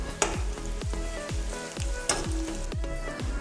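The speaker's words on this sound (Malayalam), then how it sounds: "ലേശം നമുക്ക് ഉള്ളി ആ എണ്ണയിൽ തന്നെ നമുക്കൊന്ന് ഇട്ടിട്ടൊന്ന് മൂപ്പിച്ചെടുക്കാം" Onions frying in oil in a pan for egg biryani: a steady close sizzle broken by regular scraping strokes of a spoon about every third of a second, with no voices.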